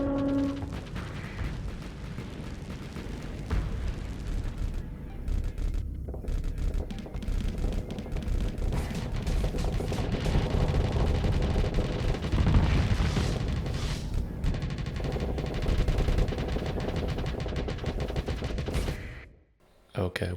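Dense, continuous weapons fire from a space battle in the video game Starsector, rapid gunfire and booming impacts layered into a loud, sustained barrage that drops out briefly near the end, with someone talking over it.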